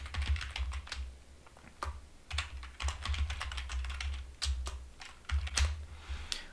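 Continuous typing on a computer keyboard while entering a name as model text in Revit, with close, crisp key clicks in quick irregular bursts and brief pauses, no voices.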